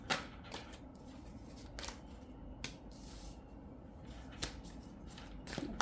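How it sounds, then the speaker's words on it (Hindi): Tarot cards are shuffled and picked up by hand, making soft, faint riffling flutters and a few sharp card snaps spaced irregularly. "आज जब मैं कार्ड्स को शफल कर रही हूँ, पिकअप कर रही हूँ ना"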